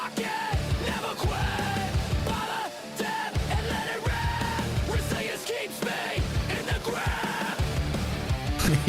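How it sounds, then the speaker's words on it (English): Yelled vocals in a played song, with shouted phrases recurring throughout over loud, dense music and drums that stay continuous and near. "Yelling, why is there all the yelling?"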